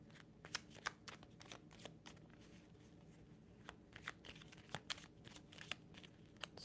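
Tarot cards are shuffled and handled close up in a quiet room, giving soft, irregular riffling and flicking clicks that come in bursts over about seven seconds, with no talking.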